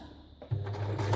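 A cheap Elmer 2000 sewing machine from Spotlight starts up partway through and stitches fabric scraps with a steady, close, motorized whir and a rapid needle rhythm.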